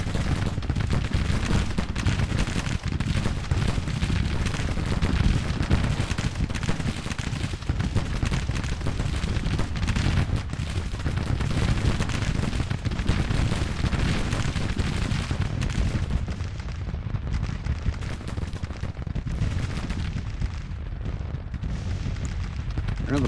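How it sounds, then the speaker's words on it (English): Sustained artillery fire and musket volleys in Grand Tactician: The Civil War, a dense, continuous rumble of booms and crackling shots rolling on loudly without pause. "Boys are hanging in strong under that artillery fire."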